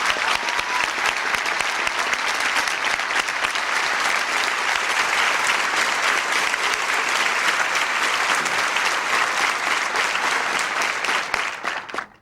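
A large audience at a presidential bill-signing ceremony applauds to welcome Chairman Bill Ford of Michigan, a dense, steady clapping that holds for about eleven seconds before tapering off.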